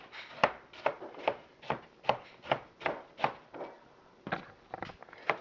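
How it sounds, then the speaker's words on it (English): A knife chops ripe, juicy mango pulp into small cubes on a board, with about a dozen crisp, fairly evenly spaced strikes close by and no talking. "Now you go over to your mango. Isn't this beautiful pulp? Straight from Boricua. Going to chop it up into little pieces."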